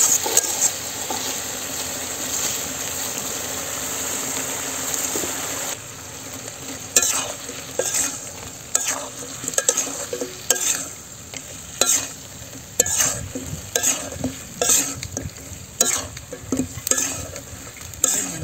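Spices being stirred into browned onions frying in a pan while cooking sucker fish in a village kitchen: a steady sizzle, then repeated close scraping stirs in an uneven rhythm, with no talk.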